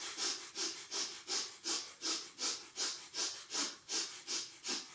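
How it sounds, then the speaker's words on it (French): Rapid, rhythmic breath of fire during a kundalini yoga class, about a dozen sharp, even exhalations through the nose spaced roughly 0.4 seconds apart, close and steady with no talking. "vous allez pratiquer une respiration du feu"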